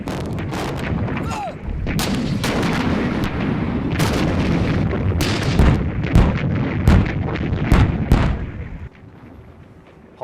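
An artillery barrage pounds a defensive line, dense loud booms and blasts firing in rapid irregular succession, overlapping into a continuous roar before thinning out at the end.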